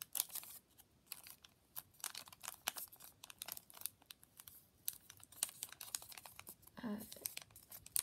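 Paper crinkling and rustling as it is folded, opened and tucked into an origami sailboat, with crisp irregular crackles and quick scrapes, close and fairly quiet, without talking.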